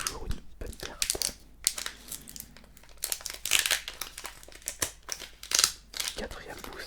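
Pokémon booster pack from the Evolving Skies (Évolutions Célestes) set crinkling and tearing open in close-up, a run of crisp plastic-foil rustles and rips, with a soft voice talking in places.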